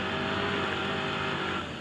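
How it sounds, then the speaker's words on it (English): Robbie Gordon's Arctic Cat 1000 off-road race truck, number 7, roars wide open uphill at a mountain hill climb, a loud, continuous, steady engine drone with no pauses. "Robbie Gordon is just wide open here in his Toyota Tires Arctic Cat 1000 number 7"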